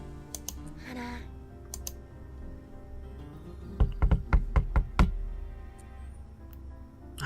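A series of about six sharp knocks on a door in the game Asagao Academy, quick and evenly spaced, set against steady background music.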